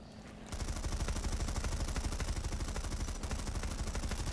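An MSW-R machine gun with a short barrel fires in Planetside 2, a sustained loud burst of fast, evenly spaced shots that starts abruptly after a brief quiet moment and runs to the end.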